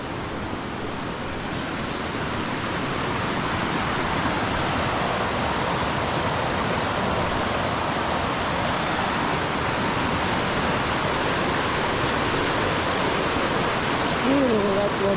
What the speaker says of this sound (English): I suppose we have to cross the river here and then go back on ourselves